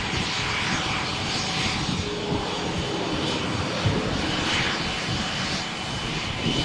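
A Falcon 2000 private executive jet's engines roar steadily at Malaga Airport on a stormy morning, a loud, continuous broadband rush with no talking.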